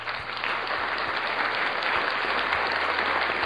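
A studio audience on a talk show applauds in a dense, steady wash of clapping from many hands that holds at an even level for the whole few seconds.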